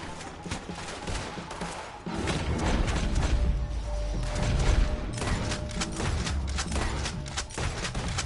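Gunfire in Red Dead Redemption 2, a dense, continuous barrage of shots and impacts during a wagon shootout, loud and sustained with crashing thuds layered throughout.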